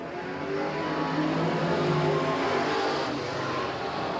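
Dirt track race cars roar together at a green flag start during a feature main event at Willamette Speedway, a dense, steady engine drone that holds loud across the field with layered revving tones.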